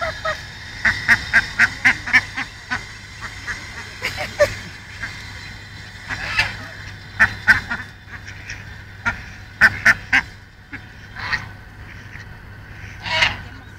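Ducks eating biscuits, with repeated nasal quacks and honks in short clustered bursts over a steady low hum, fairly close and loud.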